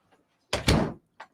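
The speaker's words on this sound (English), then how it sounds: "I'm gonna shut the door because it's freaking cold" A house door is pushed shut against the cold on a Minnesota morning, landing with a loud, close double thud, followed shortly by a small click of the latch.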